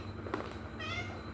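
A kitten gives a couple of small, high meows close by, the second drawn out and wavering, over a faint room hum with no talking.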